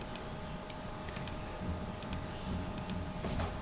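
Computer keyboard keys are pressed in a quiet room, including the Escape key: crisp light clicks arriving in small pairs at a steady pace over a low background hum, with no talking.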